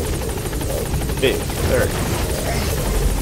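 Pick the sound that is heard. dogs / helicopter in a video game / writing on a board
helicopter in a video game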